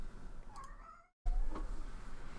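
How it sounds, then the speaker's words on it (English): A house cat gives a short, faint meow at about half a second and another soft call later, set against steady low room noise with a brief dropout in the middle. "I think my cat needs me."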